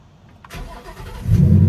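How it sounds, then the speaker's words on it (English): A manual-transmission car is started with a push-to-start button: a brief starter crank, then the engine catches and settles into a loud, steady idle close by, with no voices. "I can push the car to turn it on"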